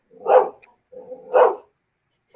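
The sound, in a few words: guard dogs barking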